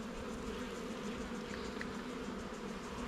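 Steady, close buzzing of many honeybees at an open hive, a continuous low drone with no talk over it.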